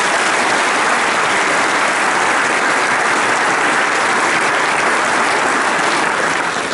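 Dense, steady applause from a theater audience at a premiere, loud and sustained throughout without pause, no voices standing out.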